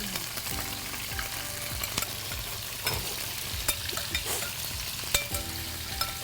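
Shrimp stir-fried in a hot wok with yellow curry, a steady loud sizzle broken by repeated scraping and clanking of a spatula against the pan.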